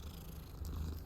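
A cat in Hogwarts Legacy purrs steadily while being petted, a soft continuous low rumble heard close up and alone.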